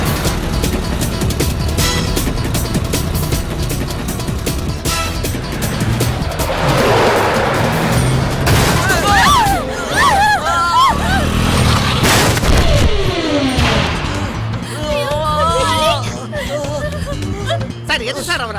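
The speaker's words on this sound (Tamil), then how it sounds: "போலீஸ் ஷூட் பண்ணிட்டாங்க." Gunfire cracks out in bursts during a police shooting amid a speeding car chase, mixed with roaring engines, screeching tires and shouting voices throughout.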